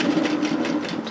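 Sewing machine stitching a knit teddy jacket, a close, steady mechanical whir with even rapid needle pulses running throughout without pause.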